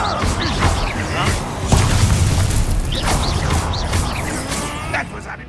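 Booming fire-spell explosions and crashing hits from Hogwarts Legacy combat, loud and dense under constant talking and game voices.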